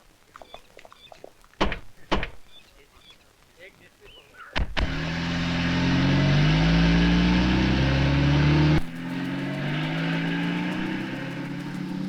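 A car door thunks shut, then a car engine starts and drives on steadily under soft talk, with the engine note shifting partway through.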